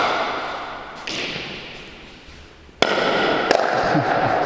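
A basque pelota ball is struck hard against a fronton wall, giving sharp loud smacks, with a few cracking impacts over a background of crowd and court noise.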